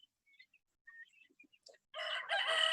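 Chickens and guinea fowl on a small farm: scattered faint chirps and clucks give way to a loud, sustained crowing call up close, with no talk.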